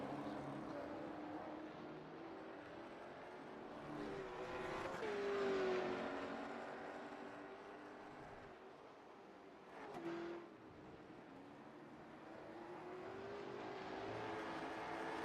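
Late model race cars lapping Oulton Park in a racing game, engine drones swelling and fading as cars pass, moderately loud and continuous with no talk.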